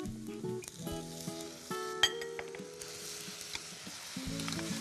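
Small anchovies stir-fry in a pan with a soft sizzle, broken by spatula scrapes and light clinks as corn syrup is added, all fairly quiet and close, with no voices.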